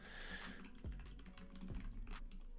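Computer keyboard keys and mouse clicks patter in quick irregular bursts, close and fairly soft, with a couple of low thumps mixed in.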